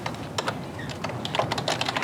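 Fingers tap on a computer keyboard in quick, uneven bursts of clicks, close and clear, without any talking.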